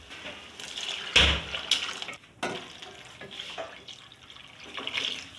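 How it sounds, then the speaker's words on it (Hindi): Water poured into a cooking pot over fried peas for Hyderabadi potato and pea pulao, a splashing pour with stirring and clattering bursts, close and fairly loud, no talk. "जितने मेरे चावल हैं उस हिसाब से मैं पानी डालूँगी।"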